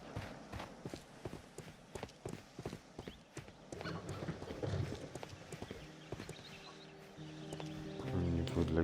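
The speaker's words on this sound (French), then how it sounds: "Une charrette." Horse hooves clip-clop at a steady walking pace as a horse-drawn cart passes in a Sherlock Holmes video game, regular and close at first, then blending into a louder ambient hum near the end.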